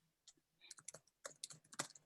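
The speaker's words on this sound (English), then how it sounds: "I'm just typing again my email in here" Computer keyboard typing, bursts of quick clicks and keystrokes arriving in short irregular clusters, close and fairly quiet, with no talk over it.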